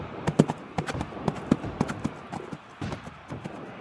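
A horse gallops away, carrying a rider, with rapid uneven hoofbeats pounding close and loud in a quick irregular rhythm over a few seconds.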